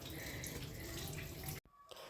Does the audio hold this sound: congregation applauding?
no